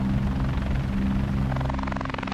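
Military helicopters hover while waiting to land at Ajax Bay, a loud, steady rotor drone with a rhythmic chopping pulse that stays continuous and close throughout.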